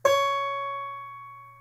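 A single electric guitar note picked at the 9th fret for a song intro rings out clean and sustained, with a clear harmonic tone slowly fading and a faint low hum underneath.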